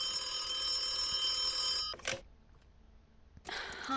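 A telephone bell rings loudly and continuously for about two seconds, then goes quiet before ringing again, with no voices.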